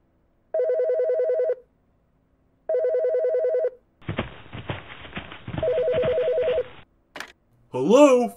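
A telephone rings in repeated electronic trills, two short bursts separated by silence, then a third under a noisy stretch, followed by brief voice sounds at the end.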